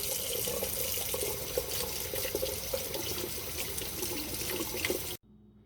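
Tap water runs steadily into a sink while milkweed pods are rinsed under it, a constant splashing rush close by that cuts off abruptly at the end.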